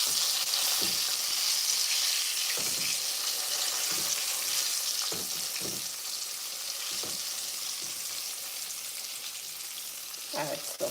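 Chicken sizzles steadily in a pan, a continuous close frying hiss with occasional soft clinks and stirring bumps and no talk.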